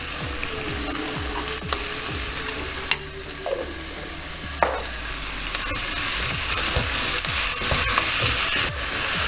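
Potato and onion frying in oil for Trivandrum-style vada koottukari, stirred continuously; a loud, close sizzle with repeated scraping stir strokes and a few sharp clinks, no voices.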